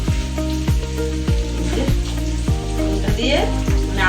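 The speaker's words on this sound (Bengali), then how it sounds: "পেঁয়াজটা ভেজে নিচ্ছি এই যে তেল দিয়ে তারপর দিয়ে গোটা গরম মশলা আর পেঁয়াজ" Onions fry in raw mustard oil with whole garam masala, a bright, continuous sizzle up close, with a voice talking over it and repeated rhythmic clinks from a spoon or pan.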